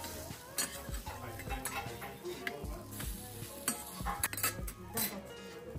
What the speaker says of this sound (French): C'est un mélange à base d'œufs, de légumes finement râpés et de tranches de viande cuites sur une plaque chauffante